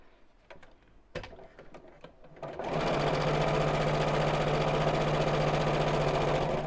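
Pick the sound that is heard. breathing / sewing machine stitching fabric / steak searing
sewing machine stitching fabric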